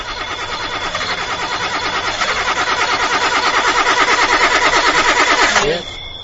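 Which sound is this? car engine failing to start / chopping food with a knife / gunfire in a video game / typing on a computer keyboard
car engine failing to start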